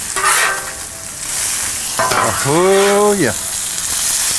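Hamburger buns for boudin burgers sizzling loudly on a Blackstone griddle as they are flipped, with a steady close frying hiss and a scrape of the spatula. Someone speaks briefly and someone whistles a short tune over it.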